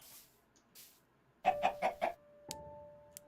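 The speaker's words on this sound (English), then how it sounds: "Hey, chicken." Chicken clucking in the video game Minecraft: a short burst of four or five quick, close clucks, followed by a brief electronic tone and a click, with no talking.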